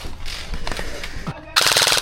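Gel blaster guns fire in a skirmish game, loud rapid bursts of full-auto shots close by, with a short pause before a dense final burst.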